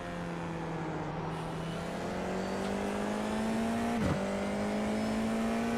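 Formula race car leaving the pits in the iRacing VR sim, a steady droning engine note rising slowly in pitch with a brief gear-change dip near the end, continuous and fairly loud, with no talk.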